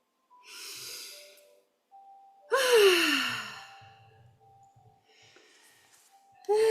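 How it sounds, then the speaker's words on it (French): People in a group relaxation session yawn in turn: several long, breathy yawns with sighing exhales and quiet pauses between them, one loud and close, another starting at the end. "Je vois que ça bâille un peu partout."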